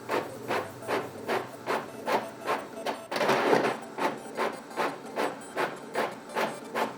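An Epson L5590 inkjet printer printing a page, its print head shuttling back and forth in steady rhythmic passes about twice a second, with a brief louder paper-feed whir midway, close and clear with no talking.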